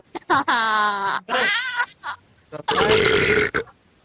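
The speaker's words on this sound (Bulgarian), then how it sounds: "спри да се оригваш" A person belches loudly several times in close succession, a few long, drawn-out, voiced belches with short breaks between them, heard near and clear without other talk.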